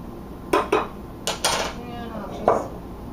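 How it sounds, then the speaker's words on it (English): Cake batter goes into a loaf pan and is spread and levelled with a utensil, giving a few light clinks and scrapes against the pan and bowl in a quiet kitchen. "just go ahead and pour your batter into your loaf pan"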